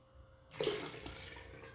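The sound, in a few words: tap water poured into a 240 ml measuring cup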